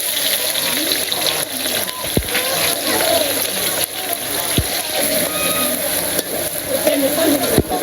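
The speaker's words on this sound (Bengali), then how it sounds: "এখন খাসির মাংস রান্না হইতেছে" Goat meat cooking in a village kitchen, a steady loud hiss and sizzle with watery bubbling, broken by a few faint clinks.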